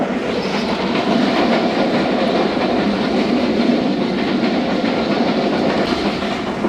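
The 15 Up Karachi Express runs on the rails at about 105 to 110 km/h, giving a loud, steady roar with a faint rhythmic clickety-clack of the wheels throughout and no voices.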